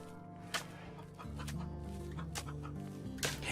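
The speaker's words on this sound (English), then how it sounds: "Powerful chicken sounds." Chickens cluck in the video game RimWorld, a few short clucks and squawks standing out over a steady droning game soundtrack, with no talking.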